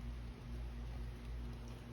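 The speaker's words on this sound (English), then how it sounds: "it's light rain, but yet the sun is out" Light rain falls steadily outdoors on a sunny day, a soft continuous patter with a low rumbling background and no voices.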